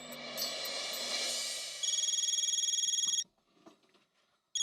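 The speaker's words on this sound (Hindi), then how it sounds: "मैं गणपत बहू को फोन करके यहाँ बुला लेती हूँ." An electronic telephone rings in a rapid pulsing trill for over a second, stops, then starts ringing again briefly at the end.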